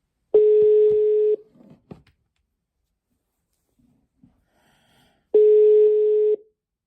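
Outgoing telephone call tone: two long steady ringback beeps about five seconds apart, with faint handling clicks and quiet gaps between them, loud and close.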